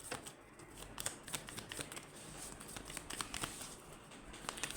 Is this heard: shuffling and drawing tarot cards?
yes